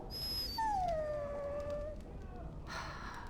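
A dog in the video game Dragon Age: Origins lets out a single drawn-out, falling whimper-howl, fairly clear over a steady noisy game background, with no talk.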